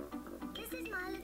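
A pig oink from a Peppa Pig cartoon, a nasal snorting grunt mixed with a childlike cartoon voice speaking throughout the short stretch.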